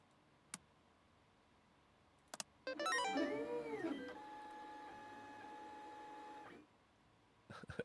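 An office printer in PC Building Simulator whirs and clicks into action after a few sharp taps, then runs with a steady mechanical hum and shifting tones for several seconds before cutting off, fairly quiet.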